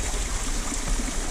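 A small tributary stream in the Dolores River area of southwest Colorado flows steadily over rocks, a close, continuous watery rush.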